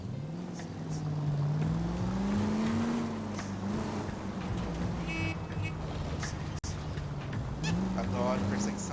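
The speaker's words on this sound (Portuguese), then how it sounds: "Adoro perseguição de carros." Car engine droning and revving through a chase in the video game L.A. Noire, a steady loud hum rising and falling in pitch with brief honk-like tones over it, a few faint voices in the background.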